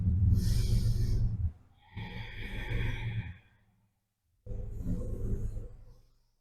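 Loud, close breathing from someone holding a plank-style yoga pose: three long, forceful breaths, each a rush of air, with a brief silence before the last, and no talking.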